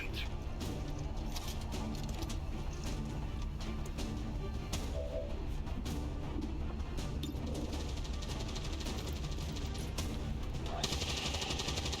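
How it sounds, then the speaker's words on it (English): Gunfire in the XCOM video game, repeated sharp shots and bursts in close succession over a busy game soundscape, loud and continuous across the stretch. "Those bullets clearly went through him."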